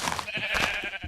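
A sheep in the Minecraft mod Project Ozone 2 lets out one short, close, loud bleat while attacking, with no talking.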